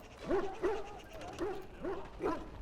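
Hounds in the Dragon Age Origins video game, dogs sickened by darkspawn blood, give five short yipping barks at an even pace, moderately loud and fairly close.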